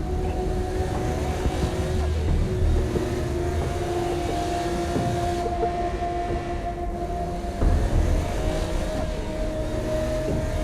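Car driving in the video game Saints Row: Gat Out of Hell, a loud, steady engine drone with a sustained tone that shifts pitch midway, along with road rumble and a few brief bumps, with no talk.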